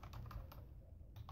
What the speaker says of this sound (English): Let me Google it. My keyboard's over here.